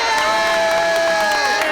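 A loud, continuous crowd roars and cheers at a queer international dodgeball tournament in Seattle, with shouts and whistling tones rising over the din.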